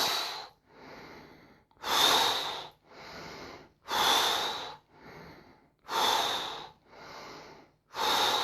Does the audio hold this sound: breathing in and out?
yes